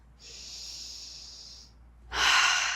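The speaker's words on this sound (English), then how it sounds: "Take those big breaths." Heavy breathing after exercise during a full-body sculpt workout with light weights: a long, steady exhale followed by a louder, sharper breath, close and with no talking.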